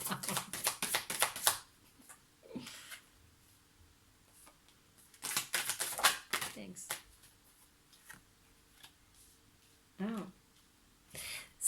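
Wildwood Tarot cards are shuffled and picked by hand in quick papery riffling bursts, coming in several separate clusters with quiet pauses and soft taps in between, close up.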